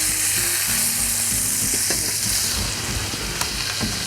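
Food fries in a single shared frying pan, a loud, steady sizzle with scraping and stirring clatter throughout.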